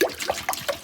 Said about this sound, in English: we'll pour this right back in here